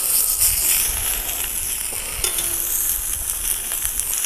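Oxtail pieces frying in a pan for a traditional South African braai dish, giving a steady, dense sizzle throughout with occasional stirring noises, close and fairly loud, no talking.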